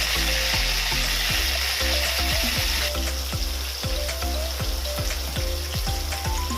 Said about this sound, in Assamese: এতিয়া মই ভাজি ল'ম মাছখিনি।